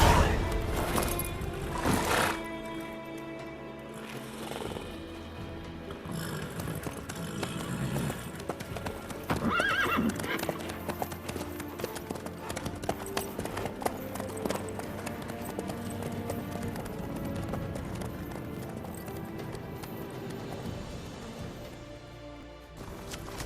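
Horse hooves clip-clopping in The Witcher 3: Wild Hunt, a steady rhythmic trot running through the whole stretch under game music and ambience, with brief dialogue mixed in.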